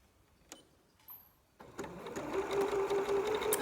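A sewing machine back stitching the end of a strap on a bralette made from a T-shirt, starting with a few clicks and taps, then whirring into a steady, close mechanical stitching run that builds and holds.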